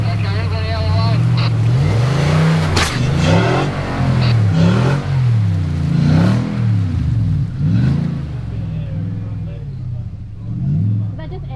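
A Nissan Y62 four-wheel drive grinds through a deep hole on an off-road track, its engine rising and falling in repeated labored revs, loud and close, with people talking over it.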